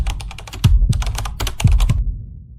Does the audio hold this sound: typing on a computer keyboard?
yes